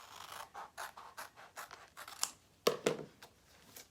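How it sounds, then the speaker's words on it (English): Scissors snipping and scratching through a chalk transfer along its cutting line, a run of quick soft cuts followed by a sharper, louder snip and rustle near the end, close and quiet with no talk. "I'm going to cut here on the cutting line."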